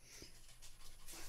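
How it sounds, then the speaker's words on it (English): A dog pants and whimpers softly nearby in an indoor podcast recording, breathy rhythmic huffs with faint whines against steady room noise. "where we're going to have to deal with editing out dog fights later"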